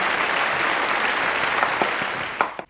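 Applause from a studio audience on a French talk show greets an arriving guest, a steady dense clapping wash lasting throughout with a few sharper claps near the end as it fades.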